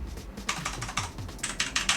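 Clicks on an Xbox Series X controller's D-pad, a quick run of sharp, close plastic taps in an irregular typing-like rhythm, some grouped in rapid bursts, with no talk.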